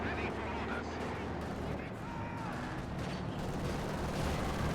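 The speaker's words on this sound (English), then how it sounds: "Rifle nade." Rifle grenade fire in a World War II strategy game, with dense bursts of gunfire and explosions thudding through a noisy battle mix while someone commentates over it.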